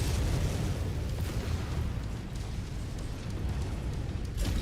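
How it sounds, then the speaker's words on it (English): Dense rumbling barrage of missile explosions in MechWarrior 5, overlapping booms forming a continuous heavy roar with crackling bursts, loud and close, no voices. "This guy is like just spraying the ground with missiles."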